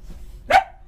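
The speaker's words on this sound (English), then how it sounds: "Usually when she barks at me like that" A small female dog gives a single sharp bark close by in an otherwise quiet room, with no voices.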